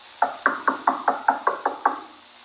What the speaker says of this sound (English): Do not answer the knocking at the door.